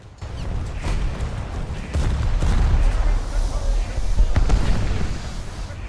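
Naval guns firing in a warship video game, heavy booming shots and scattered bursts over a steady rumble, with several distinct loud reports spaced a second or two apart.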